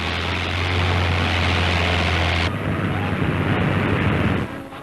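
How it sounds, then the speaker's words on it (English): American-built RAF Boston III bombers in flight, a loud steady engine drone with a strong low hum that stays continuous before fading out at the end. "these American-built bombers fly on raids against military targets in enemy-held territory across the Channel"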